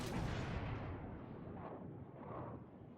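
Heavy main-gun salvos from the battleship Roma in World of Warships: Legends boom out in a deep rumbling blast that rolls on and decays, with a couple of softer follow-up thuds.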